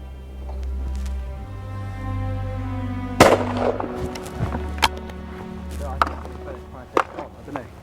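A Longthorne Valkyrie shotgun fires at a clay target outdoors, a single sharp loud crack rising above a low steady hum, followed by softer knocks and clicks, with voices talking nearby.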